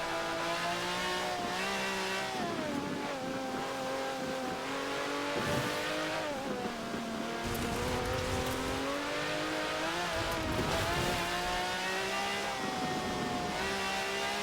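A taxi's engine revs and shifts through its gears in the racing game Forza Horizon 4, loud and continuous, with pitch climbing and dropping at each gear change and faint tyre noise underneath.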